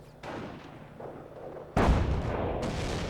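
A 105mm howitzer barrage in the video game Company of Heroes: a heavy artillery boom lands early, then rumbling fire continues, and a second, louder blast hits partway through and keeps the low roar going to the end.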